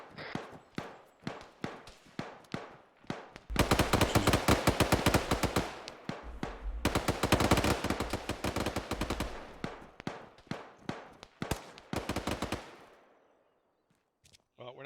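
Rapid bursts of automatic gunfire in a squad-training video game: scattered single shots at first, then dense sustained machine-gun volleys, loud and close, trailing off into quiet.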